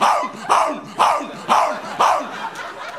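A man on stage imitates a barking dog with his voice, giving five loud, evenly spaced barks about half a second apart, close and alone.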